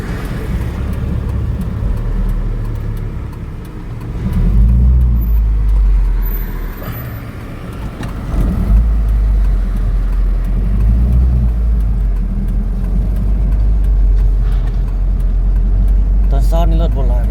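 Steady road traffic rumbling along a morning street in Vientiane, with engines swelling as vehicles pass close by around the middle and near the end, under continuous talk.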